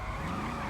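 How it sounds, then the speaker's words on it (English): A Bravado Gauntlet Hellfire muscle car in GTA Online, stock, drifting with a continuous close tire squeal over a steady engine drone, brief and loud. "I'm gonna do some figure eights, see if I can do some donuts"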